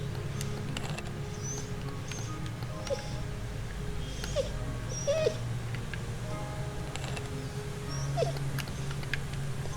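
A dog whimpers and yips in the game Into a Dream, with brief high whines scattered over a steady low background hum.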